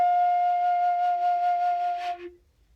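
A flute holds a steady single F note for about two seconds, clear and sustained, then stops, leaving near silence.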